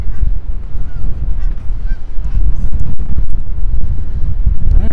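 Strong wind buffets the microphone at a lakeside bird beach, a loud continuous low rumble with gusts swelling and easing throughout, and faint honks of geese in the distance.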